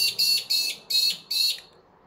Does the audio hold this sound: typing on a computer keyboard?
no